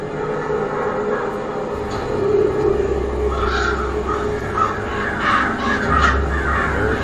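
Crows caw repeatedly over a steady rumbling bed of low noise in a Game of Thrones scene, the calls rising and falling in a loud, continuous wash throughout.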